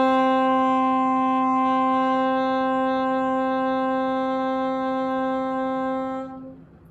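Saxophone holding a single steady A note, loud and clear for about six seconds before cutting off, played alone without talk.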